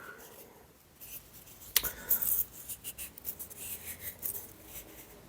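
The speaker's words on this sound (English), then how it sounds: "Oh my god, don't you just love when you can't find the end of the roll of sellotape?" Soft scratching and picking at the edge of a sellotape roll, with small irregular rubs and light tearing clicks, fairly faint and close, no talking.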